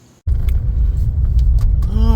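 A truck carrying a Mercedes R107 450SL engine cradle drives through downtown Birmingham, a steady close engine rumble with road noise that starts abruptly and continues with rising tonal whine near the end.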